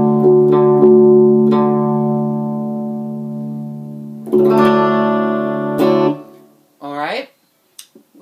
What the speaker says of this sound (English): Just take your low E string, tune it down a whole step to match your open D.